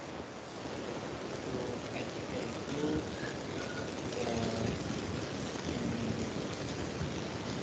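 Heavy rain pours at a caller's end of a phone line, a dense, steady hiss with muffled rumbling underneath, band-limited and fairly loud throughout, with faint voice traces.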